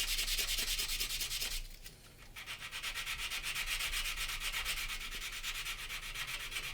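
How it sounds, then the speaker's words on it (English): Steady sandpaper rubbing on the plastic of an Airfix 1/72 scale Vulcan model kit, close and continuous back-and-forth scraping with a brief pause partway through, no voices. "But most times you can just literally sand it all the way"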